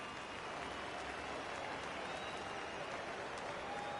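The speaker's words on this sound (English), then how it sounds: "I can hear the crowd murmuring now, wondering if he hit him on purpose" A stadium crowd in the baseball video game MLB The Show 19 keeps up a broad, steady murmur and roar, like distant applause, with no clear voices.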